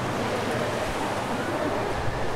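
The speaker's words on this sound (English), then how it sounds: "gets absolutely blindsided by the white water here at Fitzroy Beach" Surf and white water break at Fitzroy Beach, Taranaki, during a surf contest: a loud, steady wash of rushing foam and wind noise that fills the whole stretch without a break.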